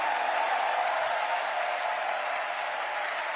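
A church congregation applauds and acclaims God during a prophetic worship service in the DR Congo, with a dense, steady wash of clapping that holds at an even level throughout, with no voice rising above it.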